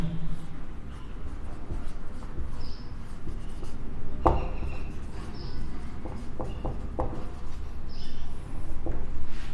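Marker or chalk scratches across a board during a physics lesson in short strokes and taps, with a sharp knock partway through and room noise underneath.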